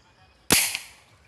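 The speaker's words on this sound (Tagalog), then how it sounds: "kahit hindi ini posisyon pumuputok din." A single sharp pop goes off as a small gas tank, filled with a 5 ml syringe, ignites. The close, loud crack decays quickly into a brief hiss.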